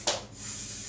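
Cooking spray hisses into small baking dishes for a custard crumble in one quick, close burst, followed by faint room noise.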